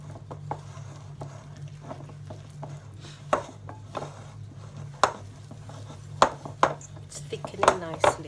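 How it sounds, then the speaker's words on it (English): A wooden spoon works milk tart dough in a bowl, producing irregular knocks and scrapes against the sides that grow sharper and more frequent toward the end, over a steady low hum. "I'm going to swap over to the wooden spoon so I can get into the sides of the bowl"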